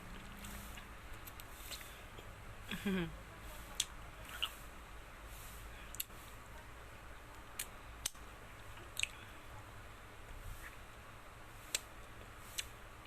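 Someone bites and chews soft, milk-flavoured ice cream in faint, close, irregular crunching clicks spread steadily over a quiet background, with no talking.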